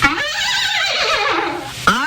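A horse gives a loud, close whinny that wavers for most of the clip, then a brief second call rises at the very end.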